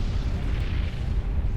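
A nuke in Supreme Commander: Forged Alliance detonates as a sustained, dense low-end roar and rumble, loud and continuous throughout with no clear onset.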